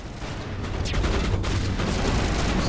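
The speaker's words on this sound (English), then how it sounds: "It's a sniper rifle." A sniper rifle in the video game Mass Effect fires amid a dense, loud burst of gunfire, with sharp cracks and booming reports blending into continuous noise.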